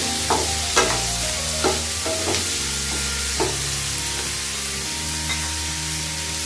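Medium-sized tomato and onion sauté in a pan with a steady loud sizzle, broken by scattered soft clinks and stirring scrapes, close up.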